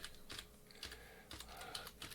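Someone types on a computer keyboard connected to an HP ESA-L1500A spectrum analyzer, producing quiet clusters of keystrokes in uneven bursts with short pauses between them, with no talking.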